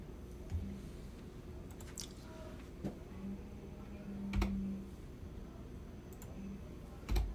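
A book title being typed on a computer keyboard, faint sparse key clicks with occasional louder taps, quiet and close, no talking.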